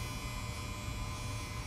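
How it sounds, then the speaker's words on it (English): A clothes dryer buzzes loudly and steadily with a low, continuous electrical hum that holds unbroken throughout, with no talking. "Sorry again for that buzzing. It's the dryer once more. Buzzing loudly."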